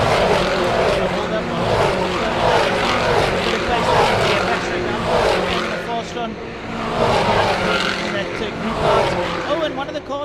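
Supercars race cars at Killarney driving through turn 5, engines droning and rising and falling in pitch as they pass, heard steadily throughout beneath a commentator's voice.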